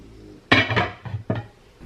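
A lid is set onto a slow cooker in a kitchen, giving a handful of short, close clunks and clatters over about a second with no talking.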